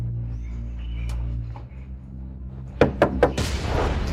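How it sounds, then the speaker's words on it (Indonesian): Three quick knocks on a wooden door, fairly close and sharp, after a stretch of low room hum, followed by a burst of broadband noise. "Ngapain ketok pintu?"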